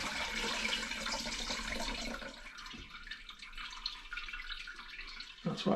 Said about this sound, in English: I just want the liquid to go through and the solids not to